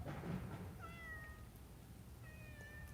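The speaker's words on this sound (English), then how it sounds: "Damn cat coming at me." A cat gives a couple of faint, drawn-out meows from a short distance in a quiet room, with soft rustling noise underneath.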